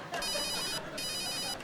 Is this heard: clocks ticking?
no